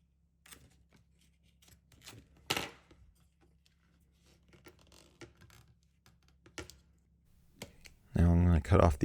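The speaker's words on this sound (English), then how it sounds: "Now I'm going to cut off the excess piece on the other side." Scissors snip through excess interior wrap film on an Alfa Romeo Giulia or Stelvio trim piece, giving a few sharp, close clicks and cuts over quiet background, with a voice starting at the end.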